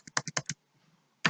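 Keystrokes on a computer keyboard while an HTML page is built, five quick close taps in a burst, a short pause, then one more sharp press.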